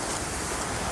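Ocean waves wash steadily with a broad, even surf hiss and faint wind, soft and unbroken for a brief moment.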